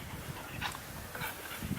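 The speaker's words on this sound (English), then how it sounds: "My dog just might have gotten stung in the mouth." A dog whimpers and pants softly after being stung in the mouth, with quick breathy panting and faint whines, fairly quiet and close with no talk.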